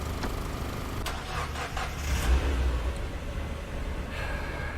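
A truck engine in a video game cranks and catches, settling into a steady mid-pitched idle hum over low background rumble, fairly quiet and with no talking.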